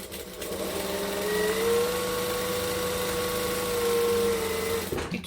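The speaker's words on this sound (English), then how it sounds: "I'm going to top stitch the top edge because it'll look pretty." A sewing machine runs steadily, close and alone, as it top stitches along the top edge of a book bag backpack, its motor holding a smooth whirring drone for about four seconds before stopping.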